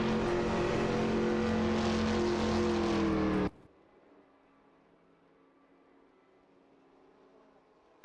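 Race cars in an AI-driven racing video game, engines loud and steady for about three and a half seconds, then cutting abruptly to a faint, distant hum.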